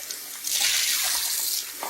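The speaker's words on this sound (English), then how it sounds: "Put just some more cold water over them." Cold water from a kitchen tap pours over freshly boiled eggs, a steady close rushing splash that swells in the middle and eases off, with no talking.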